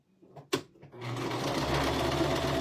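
A home sewing machine sewing zigzag and straight stitches starts after a sharp click, then runs in a fast, steady whirring rattle with a low rumbling undertone, close and continuous.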